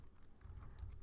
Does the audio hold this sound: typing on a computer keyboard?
yes